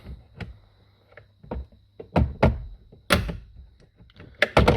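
A glove box being pushed into place in a Nissan S15 Silvia: a scattered run of plastic clicks, knocks and thunks close by, sharper snaps toward the end, no talking.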